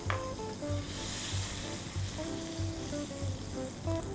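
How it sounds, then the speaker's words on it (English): Olive oil and melted butter sizzling in a Pro X frying pan over medium heat, a steady close crackle with small pops and light scraping throughout. "heat my Pro X frying pan up to a medium heat, and then we'll add some olive oil, generous amount of olive oil, and a generous knob of butter"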